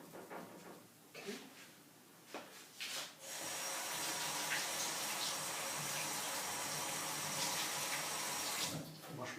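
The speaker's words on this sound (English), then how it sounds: "Wash my finger a little bit." Kitchen tap turned on and running steadily into a sink while a finger is rinsed under it, preceded by a few soft knocks and handling sounds, close and continuous for several seconds before shutting off.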